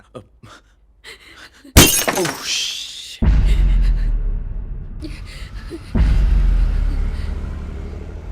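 A pane of glass shatters in a house, a sudden bright crash with tinkling shards, followed by heavy thuds and rumbling noise that cut in twice more; faint voices are heard before the break.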